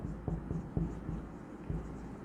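A pen scratches out an expenses entry on paper in a quiet room, making soft, close strokes with a few short rhythmic scratches over low background noise.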